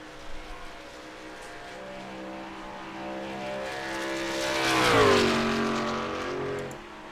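A race truck, the number 13 Whiskey River machine, runs laps at Indianapolis Motor Speedway, its engine drone swelling and pitching down as it passes, loud and steady throughout.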